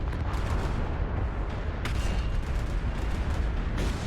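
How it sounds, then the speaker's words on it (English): Artillery strike in the video game MechWarrior Online: a continuous, dense roar of distant booming impacts and rumbling explosions, with a sharper crack near the middle and another near the end, no speech. "let's send another artillery strike right there"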